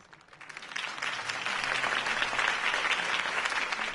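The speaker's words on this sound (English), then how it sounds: "If only Mr. Wayne, my campaign's largest backer, could have heard that applause" A crowd breaks into applause in a video game, swelling quickly and holding steady, a dense wash of clapping with no voices over it.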